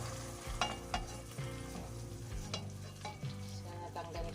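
Salmon sizzles in a hot pan as it is stirred and turned, with steady frying hiss broken by several sharp scraping clatters of a utensil against the pan.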